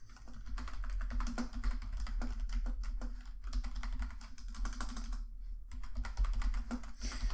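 Someone types code on a computer keyboard in rapid, irregular bursts of close, crisp key clicks, with a brief pause before the tapping resumes.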